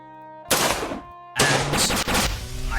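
Video game gunfire from a Gunshot card being played in Decks of Dexterity: two loud, sharp bursts of rapid shots, the second longer, over a soft musical backdrop.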